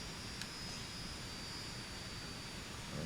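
A single-engine propeller plane in a flight simulator game drones steadily at the start of a runway, a constant engine hum with no talking.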